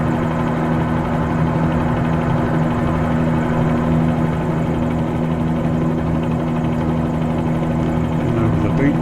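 Simulated helicopter flight in Microsoft Flight Simulator 2020, heading toward Key West over the beach: a steady, loud rotor-and-turbine drone with strong low hum that runs unbroken throughout, no talking over it.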